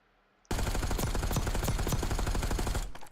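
Gunfire in Call of Duty: Warzone erupts after a short silence: rapid automatic bursts, loud and close, with sharp repeated cracks that run for a couple of seconds and then cut off.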